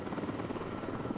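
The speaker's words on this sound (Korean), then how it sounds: "굉음을 내며 다가오는 초대형 산불 진화 헬기." A super-large wildfire-fighting helicopter roars steadily and loudly as it approaches, its rotor drone filling the whole moment with no voices.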